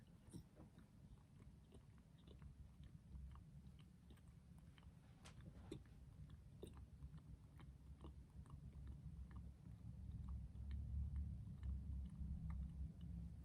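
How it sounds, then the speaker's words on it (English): Soft gum is chewed in the mouth with faint, moist, irregular clicks and smacks over a low steady hum, quiet and close, growing slightly louder toward the end. "put the gum in my mouth and chew it up until it's all soft and squishy"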